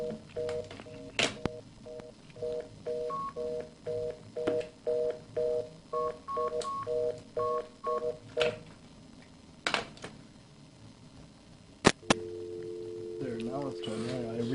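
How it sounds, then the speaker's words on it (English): Touch-tone dialing on a studio phone line, a run of repeated paired beeps followed by a steady busy-style tone, with faint talk underneath and a few sharp clicks. "I'm not sure why the phone was busy there"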